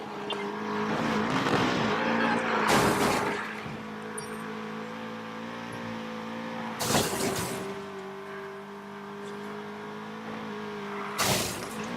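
A car in Need For Speed Payback drives hard through a chase, engine droning steadily at high revs, with three sharp bursts of tire squeal or impact noise spaced several seconds apart.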